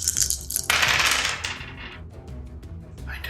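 Dice clatter and roll across a table during a Dungeons & Dragons session, a bright rattling burst that tumbles and fades out over a few seconds with scattered small clicks, no talking over it.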